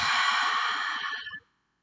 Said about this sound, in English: We'll take a deep inhale together. Exhale through the mouth.